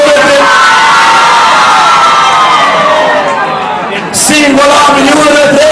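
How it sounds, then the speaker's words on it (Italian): Single women in a large New Year's Eve party crowd at Forte dei Marmi scream together, a loud, sustained wall of high-pitched shrieks and cheering that dips briefly before surging again. "Single donne, fate un urlo"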